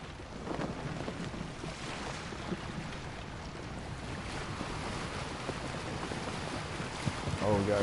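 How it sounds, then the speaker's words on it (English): A strong gust of wind while sailing a boat in Assassin's Creed Origins, a steady roar of wind and water rushing around the hull, swelling toward the end, with faint voices. "Oh, we got a good gust."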